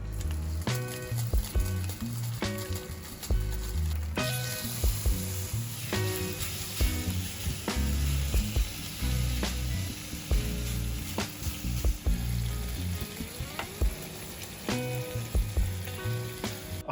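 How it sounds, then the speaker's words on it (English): Skirt steak and pork sizzle and fry together in one pan, a steady loud crackle and spatter running throughout with occasional clinks of a utensil stirring, no talking. "I'm gonna go ahead and heat up the skirt steak and the pork"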